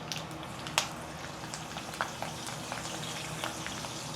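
Fish fries in hot coconut oil with curry leaves, a steady soft crackle and sizzle with occasional sharper pops, close and continuous with no voices.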